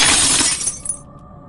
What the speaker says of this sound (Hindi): तभी अचानक शीशा खुद ब खुद टूट गया